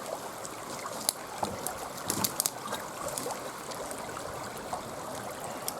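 Someone wearing wellies wades into water, the boots making soft sloshing and swishing splashes with a few sharper splashes over quiet, steady trickling.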